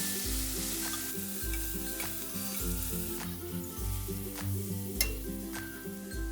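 Chopped spring onion greens with Kashmiri chilli are stirred in a hot frying pan for Marathi zunka, steady sizzling under rhythmic, close scraping strokes of a spoon against the pan.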